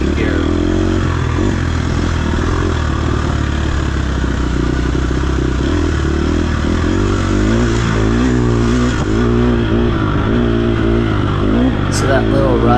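Off-road dirt bike engine held in third gear through a wooded section during a race, its steady mid-pitched drone running loud and up close through the whole stretch with slight pitch shifts.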